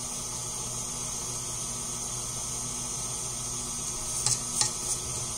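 An electric mixer beats vanilla cake batter of butter, sugar and milk with a steady, even whir, then a few brief clinks of the bowl near the end.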